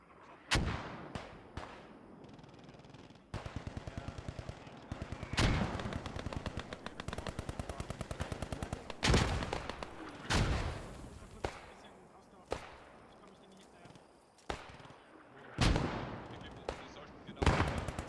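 Artillery and machine guns pound away in Post Scriptum: loud booming impacts every few seconds, separated by long rapid-fire bursts, some close and sharp, others duller and farther off.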